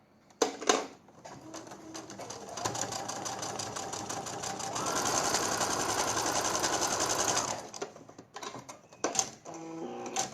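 A sewing machine stitches patchwork along a marked line, running in steady mechanical bursts with a sustained stretch in the middle, broken by short clicks and handling noises.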